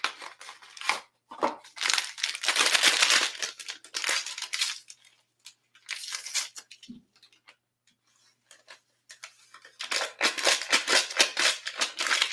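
A package of pistachio pudding mix crinkles and rustles in bursts, loud and close, with a quiet pause in the middle before more crackling handling.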